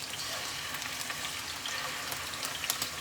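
Scallops sear in hot grapeseed oil in a pan, giving a continuous crackling sizzle with scattered sharper pops, close and moderately loud, and no voices.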